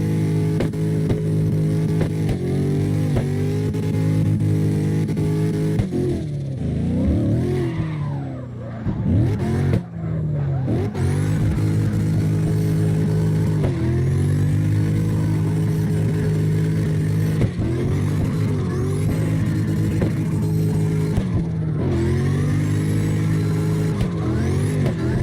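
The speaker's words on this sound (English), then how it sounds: "warming up the tires" In CarX Drift Racing Online, a drift car on the Navaro Base A map revs hard while warming up its tires. The engine screams loud and continuously with repeated pitch swoops and brief dips between throttle bursts.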